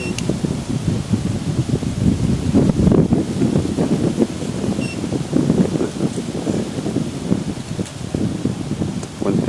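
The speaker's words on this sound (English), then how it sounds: "Wind picks up a little bit." Gusty wind on an open golf course during a 2011 match play championship, a steady broadband rush with rising and falling gusts buffeting close up, alone with no talk.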